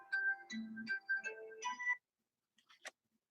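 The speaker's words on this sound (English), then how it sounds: "Of course, my cell phone's gonna ring." A cell phone ringtone plays a short melodic run of bright electronic tones for about two seconds, then stops, leaving near silence with a few faint clicks.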